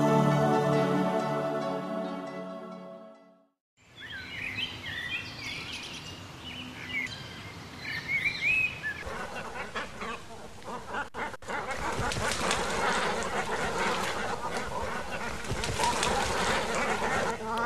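Waterfowl at the Lagunas de Ruidera lakes call and quack in a busy, overlapping chorus over a soft outdoor wash, after a short tonal passage at the start.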